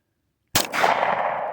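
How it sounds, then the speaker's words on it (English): A single sharp shot from a Smith and Wesson SW40VE .40 caliber pistol, fired outdoors at bottles, cracking out after silence and followed by a long ringing echo and ambient hiss. "I'm going to shoot at the one on the left in case I pull the shot again"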